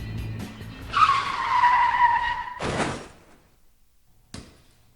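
A car's tires skid and squeal loudly for about a second and a half on an open road as it pulls out in front, followed by a sharp broadband crash burst and a brief later thump.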